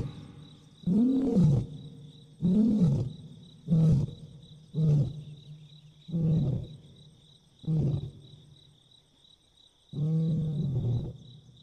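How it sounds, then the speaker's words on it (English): A male lion calls out to his pride in a series of about seven deep, grunting roars, each lasting roughly a second, spaced evenly and rising and falling, with a faint insect hum between them. "a male lion calls out to his pride"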